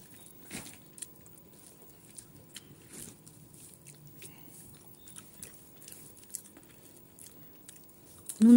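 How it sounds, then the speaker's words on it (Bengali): Someone chews a sour guava with a soft, irregular stream of small bites and squishy, crunching mastication, close and quiet, ending in a brief louder thump. "এখনকার পেয়ারাগুলো এরকম কেন কেন দাঁত দিয়ে কিছু চিবিয়ে খাওয়া যায় না"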